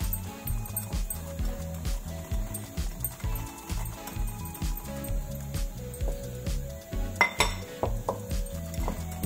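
Sugar and curd batter for an eggless semolina cake being beaten in a bowl, with a steady run of rhythmic scraping and clinking strokes from a spoon against the bowl, close up and moderately loud.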